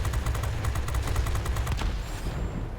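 Bf 110 C-6 heavy fighter in World of Warplanes firing cannon and machine guns together, a loud continuous rattling barrage of rapid shots at close range that lasts most of the moment before tapering off, with no talking.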